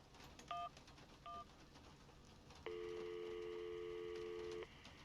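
Cell phone keypad tones from the video game Syberia, set in 2002: two short beeps as a call is dialed, then a steady two-second tone, with no voices.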